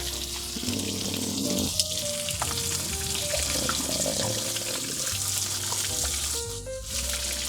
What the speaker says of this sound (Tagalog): Ito pong second steak na niluluto natin, ito po ay medium well